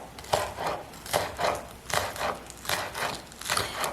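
Knife chopping through garnish pieces on a cutting board, a steady series of about nine close, crisp cuts in an even rhythm with no talking.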